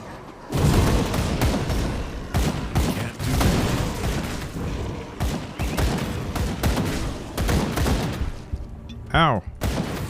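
Beastmen enemies fire rifles in the Grim Dawn action role-playing game, a dense, loud run of cracking gunshots and booming impacts in rapid irregular bursts, with a player's voice talking over part of the fighting.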